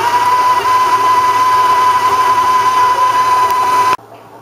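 Electric mixer creaming butter and white sugar for cookie dough, a steady high-speed whir with a constant tone running about four seconds before cutting off abruptly, leaving a faint hum.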